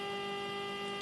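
A CT3 texture analyzer hums steadily with a constant electrical tone as it boots up, close and faint, with a small click near the end.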